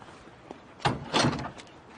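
A door is pushed shut indoors: a faint click, then a dull thud and a brief scraping slide as it settles closed, fairly close by.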